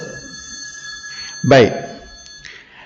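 A phone keeps ringing with a steady electronic tone while someone speaks briefly over it.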